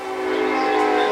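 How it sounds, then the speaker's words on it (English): A passing train sounds a loud, sustained horn blast with steady droning tones, near and continuous through the moment. "We have a train going by"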